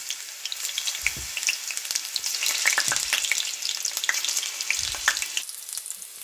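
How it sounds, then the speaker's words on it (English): Green plantains fry in hot oil on a stovetop over medium heat, giving a steady crackling sizzle with scattered sharp pops and a few low bubbling bursts, moderately loud and close, with no talking. "So this is the oil, and we're just going to place the plantains in there"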